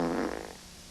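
A single short fart noise from a fart bag, a loud buzzy blat that tapers off within about half a second.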